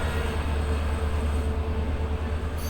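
A Howrah–Jodhpur express train on a line in Rajasthan rolls past with a steady, loud rumble and rail noise that holds even for about three seconds, with no voices.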